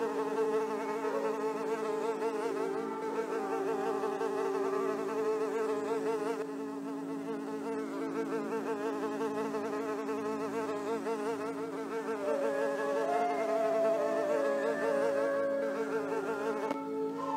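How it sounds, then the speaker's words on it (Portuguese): A dense swarm of flies buzzes continuously and loudly, with layered droning wings that waver in pitch throughout, used as a sound effect for a plague of flies over Egypt. "houve milhares de moscas por toda a terra do Egito."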